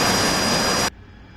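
AV-8B Harrier jet engine in the DCS flight simulator during a night operation, a dense steady roar that cuts off abruptly partway, dropping to a faint low hum.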